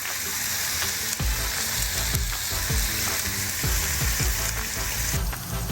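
Patties fry in oil in a very hot cast iron skillet at a campsite, a loud, dense sizzle and crackle throughout, with a few sharp scrapes and clicks of a utensil moving the meat around.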